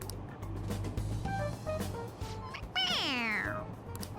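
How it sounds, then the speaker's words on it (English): A toy cat in the video game Persona 5 Royal lets out one drawn-out, rising-then-falling meow when its head is pressed, heard clearly over soft game background sounds. "It meows when you press on its head."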